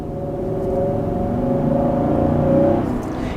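An Infiniti QX80 with a 5.6-liter 400-horsepower V8 accelerating hard for a pass, heard from inside: a loud, steady engine drone rising in pitch over about three seconds, then easing off.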